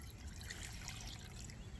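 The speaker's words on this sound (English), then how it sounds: "So I'm gonna add 100 milliliters of distilled water." Distilled water, about 100 millilitres, poured into a vessel already holding shot silver during metal refining; a steady close trickle and splash runs throughout, with no talking.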